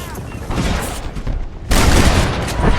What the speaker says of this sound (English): I'm telling you, Irish, that machine gun had better work after all this.